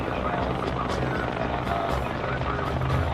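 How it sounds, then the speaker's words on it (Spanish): Cobra and Apache attack helicopters arrive at night to support M1 tanks on the ground, a dense, steady rotor roar that stays loud and unbroken throughout. "llega el fuego de apoyo de los helicópteros Cobra y Apache para los tanques M1"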